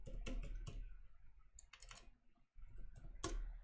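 Keys clatter on a computer keyboard in short, irregular clusters of quiet clicks with brief pauses between them.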